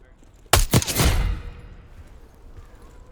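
Gunfire in the Call of Duty: Black Ops 6 video game: a sudden close burst of several sharp shots in quick succession, then a fading echoing tail over low background noise; a voice is faintly present.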